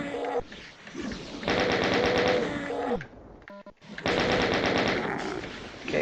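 Sustained automatic gunfire from the shooter game RAMP 2025 rattles in two long, loud bursts separated by a short lull, dense rapid shots with no talking.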